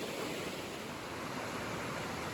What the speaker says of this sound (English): And obviously the stream just underneath.